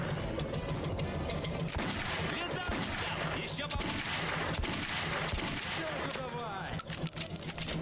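Gunfire in the video game Metro 2033 Redux, a dense run of sharp shots and bursts over a busy, steady game soundscape, with short clinks and a voice speaking briefly.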